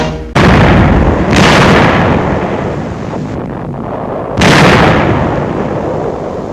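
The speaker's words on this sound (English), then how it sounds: "German positions in the hills above Trier are brought under fire" Artillery pounds German positions in the hills above Trier during the Second World War, heard as loud, heavy blasts at a steady roar, with three big booms breaking through the dense, continuous rumble.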